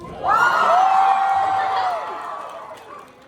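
Comic con panel audience at Indiana Comic Con cheering loudly, a crowd roar with whoops and high shouts that swells quickly and then slowly fades.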